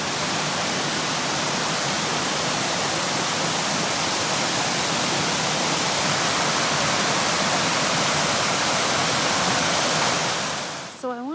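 Steady broadband rush of a river flowing past on a summer walk, loud and continuous for the whole stretch before cutting off abruptly at the end, with no talk over it.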